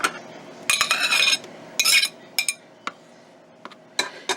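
Spoon scraping and clinking against a bowl while a homemade no-machine ice cream mixture is folded, coming in short bursts of clatter with quiet pauses between, close by.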